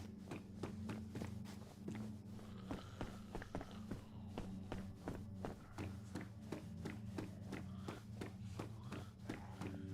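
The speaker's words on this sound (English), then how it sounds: "And they can hear me clomping around." Steady run of footsteps clomping over ground in the survival video game DayZ, set in Chernarus, with regular thudding steps carrying through the whole stretch over a constant low background hum.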